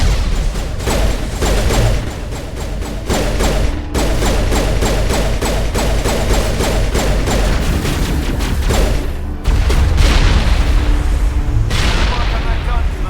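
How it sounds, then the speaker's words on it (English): Combat in Mass Effect 1 Legendary Edition on Virmire, where a grenade explodes amid a dense, loud stretch of rapid rhythmic gunfire and heavy booms, with voices talking under the battle noise. "That's a well-placed grenade."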